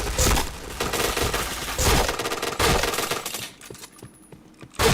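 Rapid bursts of automatic gunfire from the shooter game Point Blank, dense, loud and continuous, with a few brief breaks and a quieter stretch near the end.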